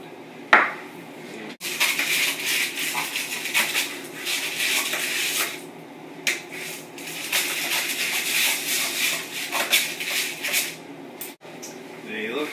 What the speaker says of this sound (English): we're going to cut the paper and remove these from the pan